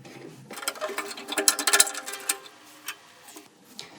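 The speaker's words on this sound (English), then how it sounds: "let's loosen the peg and get rid of the old string" A cello tuning peg is turned to slacken the old A string, giving a close series of small wooden creaks and ratcheting clicks that cluster in the middle and thin out toward the end.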